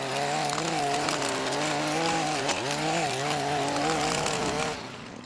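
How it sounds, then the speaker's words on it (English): A steady, loud motor whine from a lawn edger running along a sidewalk edge, with a brief dip in pitch midway before the engine drops off near the end. "I'm thinking we're gonna go ahead and edge up the sidewalk first"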